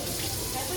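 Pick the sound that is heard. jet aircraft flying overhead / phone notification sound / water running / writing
water running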